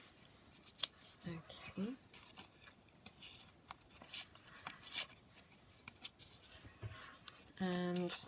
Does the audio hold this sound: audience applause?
no